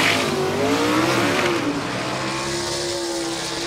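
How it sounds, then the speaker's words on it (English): A gasser drag racing car at a Southeast Gassers event in Aiken, North Carolina accelerates hard down the strip, its loud engine rising in pitch, then settling into a steady roar as it pulls away. "Good sounds right there going down the racetrack."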